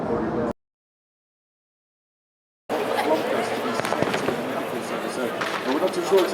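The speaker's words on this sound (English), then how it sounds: "Of course, now the fireworks display." Fireworks display at the 2023 24 Hours of Le Mans, a sustained stretch of dense crackling and popping bursts. The bursts start loud after a brief cut to silence, with crowd chatter mixed in underneath.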